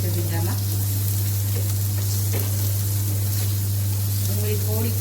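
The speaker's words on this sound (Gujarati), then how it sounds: "ડુંગળી થોડીક ચડે ત્યાં સુધી આપણે શેકી લઈશું એને" Chopped onion for bhindi masala sizzling steadily in a hot pan, a continuous close frying hiss with a constant low hum beneath and a few faint clinks.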